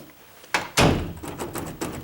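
A bedroom door is being locked: two sharp wooden clunks in quick succession, followed by a series of lighter taps and rattles from the handle and latch, all close up.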